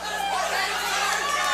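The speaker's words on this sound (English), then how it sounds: "The crowd on their feet and high anticipation for this one." Fight crowd at a USFFC event chattering and cheering in anticipation, a dense, steady roar of many voices that stays level throughout.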